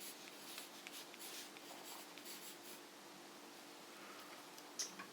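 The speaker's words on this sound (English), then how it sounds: "So I'm going to write Silly Twister." A pen scratches steadily across paper at close range as a title is lettered onto a paper roller coaster craft, producing a soft continuous scratching with a faint tick near the end.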